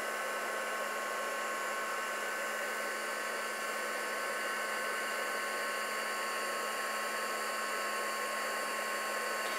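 A handheld craft heat tool blows a steady, continuous whirring hiss at close range while it melts embossing powder on a card, holding the same pitch throughout with no talk.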